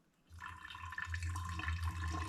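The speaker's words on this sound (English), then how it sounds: "I'm gonna be sieving and pouring on this other side" Liquid pours steadily through a sieve into a container in a home kitchen, a continuous close splashing trickle that starts abruptly and runs on without any voices.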